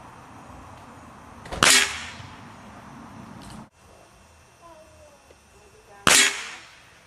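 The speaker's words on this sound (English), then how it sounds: "here's another 5-shot group using the JSB Diabolo Exact pellets" A Benjamin Discovery air rifle fires JSB Diabolo Exact pellets, two sharp, close cracks several seconds apart with quiet handling noise and a faint click between them.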